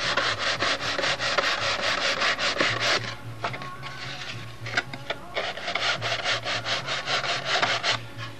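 The balsa wing of a Brodak Cardinal model aircraft being trimmed and sanded: continuous close rasping strokes in a quick, uneven rhythm with no talk.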